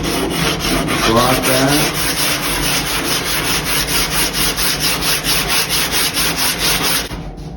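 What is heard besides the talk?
sanding surfboard fin box with 60 grit on 3M block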